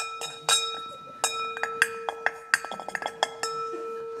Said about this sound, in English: as they're stirring up their coffee